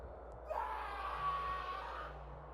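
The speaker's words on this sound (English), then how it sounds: "Henry let out a shrill scream." A long, shrill scream from a man named Henry in a winter horror tale, rising and sustained for about two seconds over a low ambient drone and backing music.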